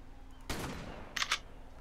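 Gunfire in the video game ARK: Path to Ascension, used while leveling a Rex: one loud blast, then a quick pair of sharper shots a moment later, over a quiet background hum.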